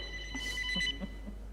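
A telephone rings with a high, warbling tone over a steady low hum, ringing through the whole stretch with faint background sounds around it.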